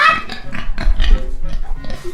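A pig grunts close and loud in a string of short, rough snorts and oinks, uneven in rhythm, with a few human voices mixed in.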